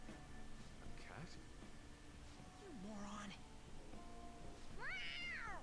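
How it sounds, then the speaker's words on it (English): A cat in Persona 5 Royal gives a few short meows spaced out over several seconds, the last one longest and clearest, under quiet game sounds and speech. "A cat?"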